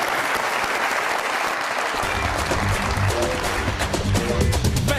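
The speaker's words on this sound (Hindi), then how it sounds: "बहुत सारी तालियां।" Studio audience at a comedy talk show giving loud, sustained applause, with a low musical sting entering partway through.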